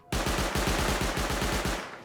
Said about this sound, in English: And their turret shooting at the